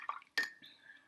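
A watercolor paintbrush is dipped and rinsed in clean water in a container, giving brief soft splashes and a small clink, close and quiet.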